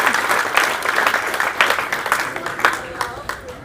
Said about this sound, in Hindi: देखो ताली बजा रही भाई इतना छोटा बच्चा भी अगर ताली बजा रहा है